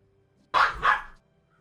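A dog gives two quick, sharp barks close by in an otherwise quiet room, each short and bright, followed by silence.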